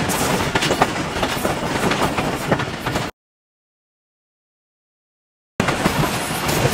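A Pakistan Railways passenger train runs along the rails, with a loud, steady rumble and rhythmic clickety-clack of wheels, broken by a few seconds of total silence before the noise resumes.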